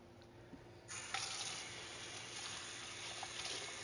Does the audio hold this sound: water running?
yes